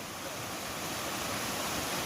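Broad, steady rush of river water flowing at Mainpat, a continuous wash of noise close by with no talk over it.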